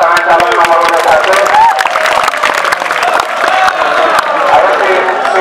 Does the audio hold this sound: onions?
no